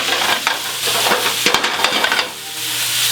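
Meatballs searing in a pan on a stove, a dense steady sizzle broken by scraping stirs and clacks of the utensil against the pan, close and fairly loud, then settling into a quieter fry.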